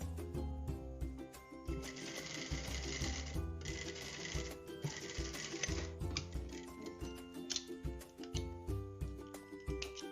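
A sewing machine runs in quick rhythmic bursts while stitching a waistband, with music playing underneath and short pauses between runs.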